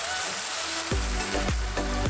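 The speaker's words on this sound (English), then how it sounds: "we are going to cook our onions to our desired liking. Next thing guys, we are going to add in our tomatoes" Tomatoes slid into a pan of sizzling onions for a coconut fish dish, a steady hiss of frying broken by three sharp bursts of louder sizzle as each batch hits the hot oil.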